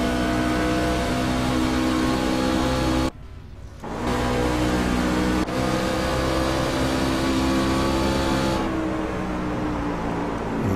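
Race truck engine roaring on board during a race, a loud continuous drone with a brief sharp drop near three seconds before the revs return, no talking.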